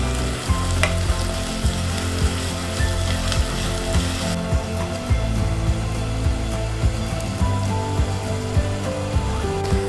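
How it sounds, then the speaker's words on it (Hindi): Sliced onions fry in half a cup of oil in a pan over a lit flame, giving a steady, loud sizzle with crackling pops throughout and no talking. "पैन में लिया हमने आधा कप ऑयल और इसमें ये प्याज डाल देंगे और इसे फ्राई करेंगे"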